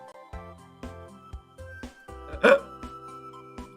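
A person hiccups several times, each one a short, sharp catch at an uneven pace, with one louder gulping hiccup near the middle.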